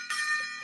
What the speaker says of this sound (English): I just knocked the big Gong of Truth over